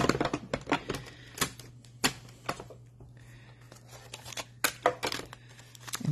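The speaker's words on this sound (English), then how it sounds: "As you feed through, you're going to hear some clicking, but it's going to be okay." Paper feeds through a die-cutting machine during a stamping craft class, giving a series of sharp, irregular clicks and rattles close up over a steady low hum.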